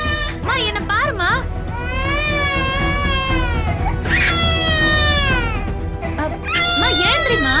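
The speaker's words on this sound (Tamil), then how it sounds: "ஐயோ பாவம், குழந்தை கத்தினே இருக்குது பாரு" An infant cries loudly and without pause, wailing in long rising and falling sobs with short catches of breath between them, close by, with soft background sound beneath.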